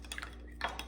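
A few soft clinks of utensils against a bowl as a salad with strawberries, seasoned with salt, is tossed; quiet, brief, close-up sounds with no talking.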